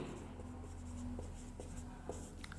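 Pen or marker strokes on a board or paper while the Raoult's law formula is written out, a steady faint scratching with a few short taps, alone in a quiet room.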